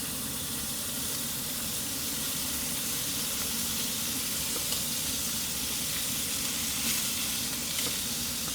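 Mushrooms frying in a generous amount of olive oil, giving a steady, close, continuous sizzle and hiss with no talking.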